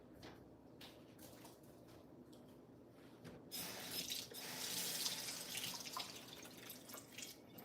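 A kitchen faucet runs with a steady wash of water and scattered drips, quiet at first, then swelling louder and brighter midway as the flow picks up, with no one talking.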